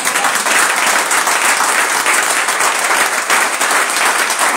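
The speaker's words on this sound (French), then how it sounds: "est-ce que quelqu'un peut acclamer les Seigneurs?" A church congregation applauds and cheers the Lord in a steady, loud burst of clapping from many hands, sustained without a break and with no talking over it.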